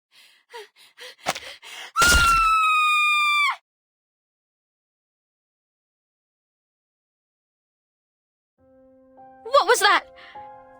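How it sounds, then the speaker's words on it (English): A scream in the video game Reverse 1999: one loud, sustained high-pitched cry lasting over a second, preceded by short breathy sounds and followed by silence, then a burst of bright chiming effects near the end. "Did someone scream?"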